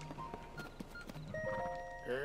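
A horse in Zelda: Tears of the Kingdom gallops up when called, its clip-clop hoofbeats sounding in a brisk rhythm over game music and effects, with a short whinny-like call and speech heard during the clip.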